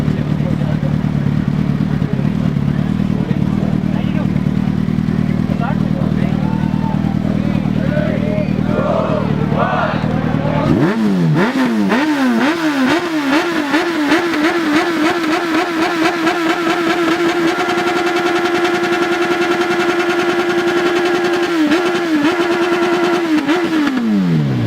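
A motorcycle at an Indian bike festival revs up hard, its engine climbing and holding a loud, rattling high pitch with repeated throttle blips. A crowd murmurs throughout and people talk nearby.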